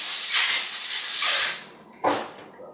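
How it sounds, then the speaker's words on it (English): Compressed air blasts oil off a gear from an AX15 transmission: a loud, close, hissing rush lasting over a second, fading out, then a second shorter burst that trails off. "Try to blow some of that oil off."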